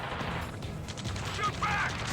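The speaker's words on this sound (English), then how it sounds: "taking fire! We're pinned down!" Gunfire rattles in the video game Ace Combat 7, dense muffled bursts in a battle din under a voice, fairly quiet and continuous.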